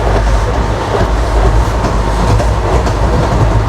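Inside a carriage of the Vidarbha Express bound for Nagpur, a loud, continuous rumble of the running train fills the space, with the rhythmic clickety-clack of wheels over rail joints and no voices.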